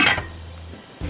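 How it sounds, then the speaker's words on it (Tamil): A metal lid set down on a chicken biryani pot, giving one sharp clink at the start, a low ringing hum, then a second soft knock near the end. "மூடி வச்சிருங்கக்கா."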